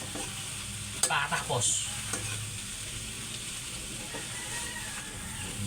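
Vegetables for Filipino kare-kare fry and get stirred in hot oil, a soft steady sizzle with a few close scraping stirs near the start, and a brief quiet word spoken.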